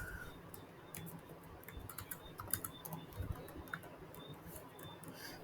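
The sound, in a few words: typing on computer keyboard in R software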